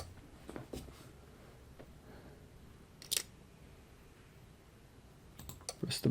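Mouse clicks on a glitched frame in a video game, a few faint sharp taps scattered over a quiet background, with a cluster of clicks near the end.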